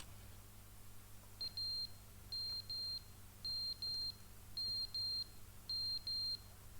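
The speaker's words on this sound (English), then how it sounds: "Oh, the fire alarm's out of battery." A smoke detector with a low battery chirps in paired high beeps, five pairs at an even pace over a low steady room hum, quiet and alone.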